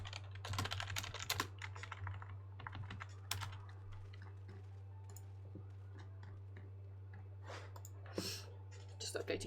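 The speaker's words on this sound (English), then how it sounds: "With apologies if you got my clicky clacky keyboard." Clicky mechanical computer keyboard typed in rapid bursts of sharp clacks over a steady low hum, with a voice talking quietly in the background and game sound faintly present.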